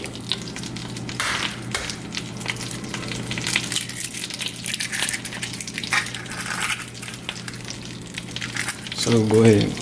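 Three eggs fry in butter in a hot wok with a steady, close sizzle and occasional scraping clatter, joined near the end by a brief tonal hum.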